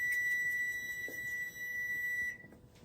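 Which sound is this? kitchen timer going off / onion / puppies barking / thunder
kitchen timer going off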